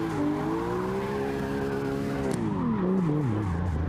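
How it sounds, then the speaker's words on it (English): A BMW race car launches hard off the line during qualifying, its engine wailing steadily with gear changes while the tires squeal loudly throughout, with no voices over it. "He goes to make his run, and we will see what this BMW can do. Heats those tires up right off the line."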